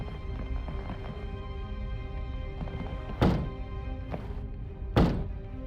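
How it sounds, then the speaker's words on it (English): Two heavy thuds from a fire extinguisher being used in a detective video game, each a sharp, loud thump about two seconds apart over a steady low droning background. "If you're going to use the fire extinguisher, now would be the time."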